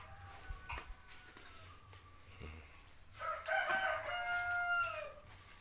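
Roosters, one of fifteen chickens kept for a big village cook-up, crow with long ringing calls that swell up loud near the end, after softer scattered clucks and farmyard noises.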